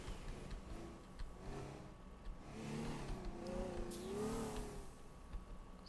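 Cars driven around in the sandbox video game Teardown, a mid-pitched engine humming and revving with rising and falling pitch over a steady background rumble, no talk.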